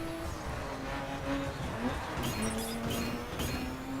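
Car driving in the video game The Crew, a steady engine drone with tire and road noise and occasional brief higher-pitched tones over a constant rumble.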